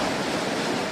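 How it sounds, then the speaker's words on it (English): Floodwaters rush in a continuous, dense roar, a steady broadband surge with no pauses, heard alone without voices. "Floodwaters are still raging across parts of our state"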